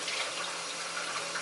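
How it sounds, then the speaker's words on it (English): Water runs steadily from a kitchen faucet, a continuous close hiss and splash with no breaks and nobody talking. "Does anybody else have this type of faucet?"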